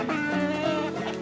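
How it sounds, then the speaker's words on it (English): Homestead chickens cluck and murmur close by in a dense, continuous chorus of overlapping hen calls, steady and moderately loud. "Little chicks."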